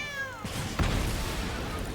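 A cat meows once with a sliding, falling tone early on, followed by a louder burst of game effects in Magic: The Gathering Arena, the digital card game.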